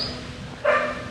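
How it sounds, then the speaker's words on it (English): A pet dog barks at another dog, giving one short, fairly loud bark or yip in the second half of the clip after a quieter stretch. "my dog is barking for this other dog"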